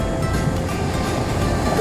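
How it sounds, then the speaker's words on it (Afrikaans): Ocean waves break on a beach on the south or north coast, a steady loud wash of surf with wind rumble, near and continuous, with no voices. "hier kom die brander"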